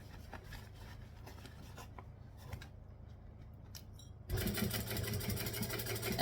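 A sewing machine stitches through a fabric bag, starting with faint scattered clicks and rustles of handling, then breaking into a loud continuous motor whir for the final two seconds, with no talking.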